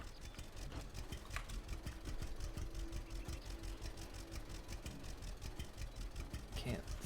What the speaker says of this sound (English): Can't seem to let go because the tractor won't stop.